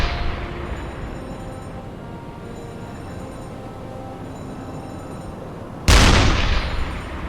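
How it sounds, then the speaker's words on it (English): A U-boat deck gun fires at a ship in the UBOAT video game. A single sharp, loud report cracks near the end and rolls off, after a long stretch of low rumbling decay from an earlier shot. "Using deck gun."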